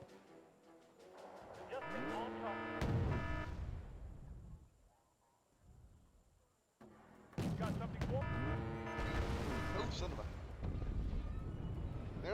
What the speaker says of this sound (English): Yes, there's artillery spam, which I didn't know how to counter.